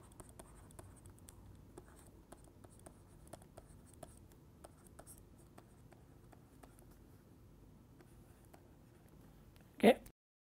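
Quiet handwriting on a board while writing out the Gaussian distribution, a steady series of soft taps and scratches across several seconds, ending with one brief louder knock.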